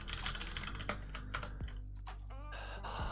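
Rapid clattering keystrokes on a computer keyboard, close and fairly quiet, in uneven bursts with a few sharper key clicks and no talking.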